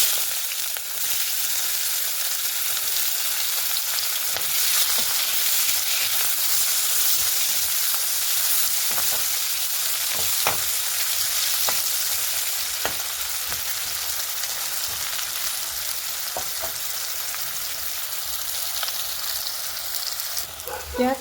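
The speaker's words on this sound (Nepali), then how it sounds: "यो रहेको बाँकी तेलमा मैले यस प्याजलाई फ्राई गर्न चाहँदैछु" Sliced onions fry in leftover oil for a fish curry, a steady close sizzle and hiss running throughout with occasional stirring scrapes and clicks.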